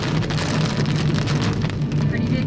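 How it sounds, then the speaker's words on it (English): Big fat raindrops pouring down in a heavy, steady downpour, a dense, loud patter filling the whole stretch without pause. "Big fat raindrops."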